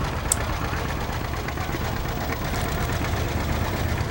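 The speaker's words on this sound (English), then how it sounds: "Red Belly Ford, that's the old Ford 8N or 9N, real popular for pulling a wagon like you see here." An old Ford 8N or 9N tractor, a Red Belly Ford used for pulling a wagon, idles with a steady low chugging rumble throughout.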